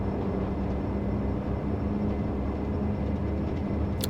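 Majestic DHC-8 Q400 turboprop engines spooling up to takeoff power in a flight simulator game, a loud, steady, dense engine drone with a faint tonal hum, constant throughout with no speech.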